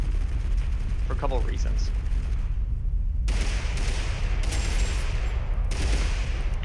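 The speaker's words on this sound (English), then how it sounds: "They're shooting at somebody else that isn't me." Gunfire in the battle royale game Totally Accurate Battlegrounds: a constant dense crackle of shots and bursts, loud throughout, with someone briefly talking over it.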